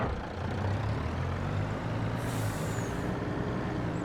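In Farming Simulator, a truck idles with a low engine drone, and midway through a sharp hiss from the air brake cuts in briefly over the steady rumble.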